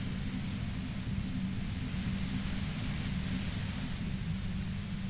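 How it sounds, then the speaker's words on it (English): Steady, loud broadband white noise from the Disco Elysium game fills the whole stretch, a dense unchanging hiss with a heavier low rumble beneath, no speech. "You hear through the white noise. It's especially bad suddenly."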